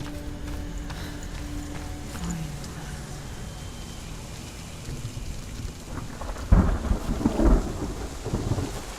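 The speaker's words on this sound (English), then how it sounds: "Hi, thunder." A thunderstorm in the video game Hellblade: Senua's Sacrifice: steady rain hisses throughout, then a loud, close thunder crash breaks out near the end and rolls on for a few seconds.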